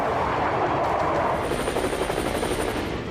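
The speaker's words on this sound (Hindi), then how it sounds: "आसमान में भारतीय वायुसेना के लड़ाकू विमानों की गर्जना तेज हो गई है" Indian Air Force fighter jets roar over Leh in a loud, dense, continuous rumble that fills the air with a rough broadband drone, no voices.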